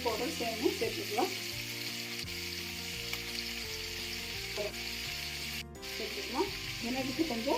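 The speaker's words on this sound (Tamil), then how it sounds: "நம்ம ரெண்டும் நல்லா ஃப்ரை பண்ணி எடுத்துக்கலாம்." Prawns and chicken sizzle steadily in a hot pan for fried rice, a continuous loud hiss with occasional stirring scrapes and a faint voice talking underneath.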